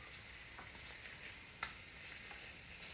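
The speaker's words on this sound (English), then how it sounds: "We're adding 1 pound of chopped bacon. And we are just going to brown this up." One pound of chopped bacon browns over medium heat in a pre-greased Dutch oven, giving a steady, quiet sizzle with a few soft pops and stirring clicks.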